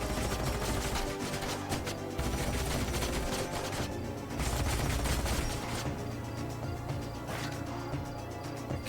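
Sci-fi unit gunfire from the Age of Wonders: Planetfall strategy game, dense overlapping volleys of rapid shots over a steady low game soundscape.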